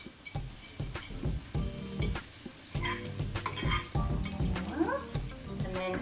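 Food cooking in a pan, with a continuous sizzle under frequent clinks and scrapes of a utensil stirring against the pan, fairly close and moderately loud.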